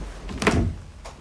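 An interior door in an English house leading down steps to a changing hut swings open, a short soft thunk and creak at moderate distance, followed by a faint second knock, with no talk over it.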